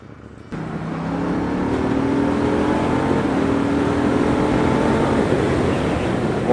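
A 2018 KTM Duke 790 motorcycle engine on its stock exhaust starts abruptly and settles into a steady, fairly loud drone with a slowly rising pitch, close by and with no voices.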